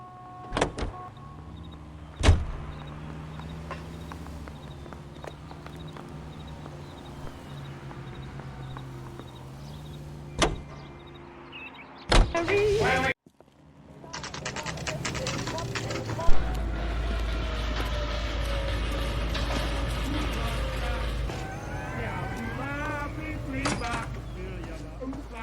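Car sounds from the game L.A. Noire: sharp clunks like a door opening and shutting, then an engine starting and a steady low drone of driving, with a voice speaking briefly.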